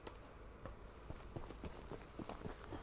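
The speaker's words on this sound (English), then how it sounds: "have I talked about the footstep sounds in this game yet?" Footsteps from the video game Choo-Choo Charles: a steady series of soft, crunchy steps at a walking pace, fairly quiet against a low background bed, with no voices.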